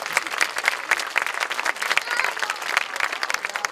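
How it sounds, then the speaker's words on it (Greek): Audience applauding at an amateur theatre performance by a regional cultural association, dense steady clapping from a crowd throughout, fairly loud and close with no talk over it. "Εδώ θέλουμε να χειροκροτήσουμε."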